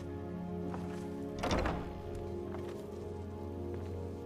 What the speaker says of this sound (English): Close the door.